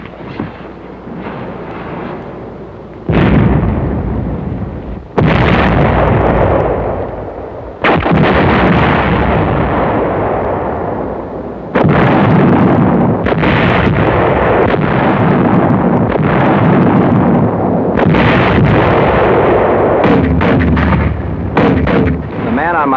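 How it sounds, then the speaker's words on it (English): Heavy tank 88 mm artillery fire during a wartime night attack: loud, booming blasts burst out repeatedly, each followed by rumbling decay and overlapping volleys, close and dense throughout. "the tanks opened up directly again with 88 fire"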